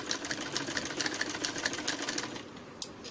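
Sewing machine stitching piping onto saree fabric, a fast rhythmic mechanical clatter of the needle running steadily up close, then slowing and stopping with a single sharp click near the end.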